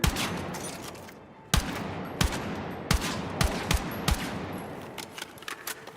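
Gunfire in the Battlefield 6 video game as a mannequin is shot: sharp, loud shots in an irregular burst pattern over a steady rumbling background, with a heavier blast midway.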